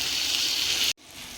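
Fried vegetables tipped into a pan for poha with turmeric and salt give a loud, broad hissing sizzle that cuts off sharply, then returns as a softer, steady frying hiss.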